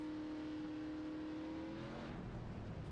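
The number 44 race car leaving pit road at Daytona, a steady engine note climbing in pitch as it accelerates away, heard alone and fairly faint.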